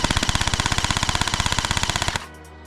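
Emerbu AK74 gel blaster firing on full auto, a rapid, even burst of about sixteen sharp shots per second, close and loud, running steadily for two seconds before stopping abruptly with a brief mechanical ring.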